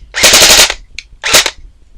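A KWA Ronin airsoft gun on a 7.4-volt battery fires two rapid full-auto bursts, loud and close, each a fast mechanical rattle of shots, the first longer than the second.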